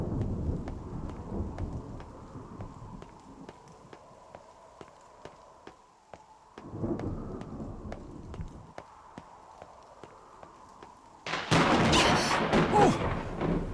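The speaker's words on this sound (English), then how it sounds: "We got thunder coming." Thunder rumbling in a low, swelling roll against steady ticking background sounds, followed by a loud burst of crashing noise near the end.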